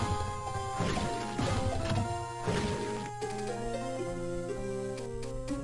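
An empty glass vial smashes in a Harry Potter and the Sorcerer's Stone video game, a sharp crash heard over steady layered game music with sustained tones and shifting melody.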